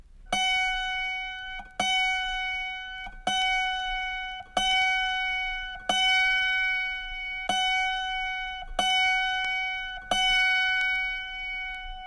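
Autoharp E string being tuned, plucked eight times about every 1.4 seconds, each bright note ringing and fading, close and alone.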